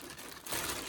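Soft crinkling of a plastic bag being handled, faint and close, with a slightly louder rustle near the end.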